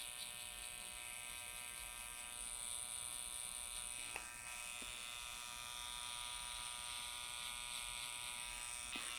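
A barber's finishing clipper trims a beard and hair during a high fade, a steady close electric buzz with faint clicks, no talk.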